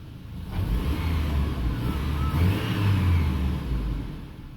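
After a moment at idle, a 2008 Chevy Colorado truck with newly changed spark plugs gets a light touch of gas and rises into a deep, sustained rev. It holds there for a few seconds before settling, close and with no one speaking.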